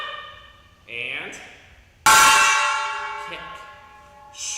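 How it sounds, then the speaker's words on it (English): A gong struck twice during a ninja-and-dragon training session, each hit blooming into a bright, shimmering ring that slowly decays, the second strike louder, with a voice briefly heard around it. "I even got a gong now."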